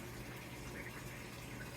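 Water pouring into a Samsung washing machine for the rinse cycle, a faint steady hiss and gush over a low hum.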